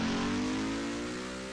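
Race car engine roaring loud and steady with strong harmonic tone, slowly fading as the first car pulls away on its qualifying run at a NNSCRA Hersheys Cup Series event at Springfield.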